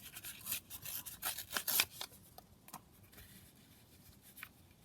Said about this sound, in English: I'm just going to tear down on that side